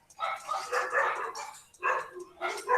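Dogs bark in loud, repeated bursts with yips mixed in, close by and filling the background of an online class.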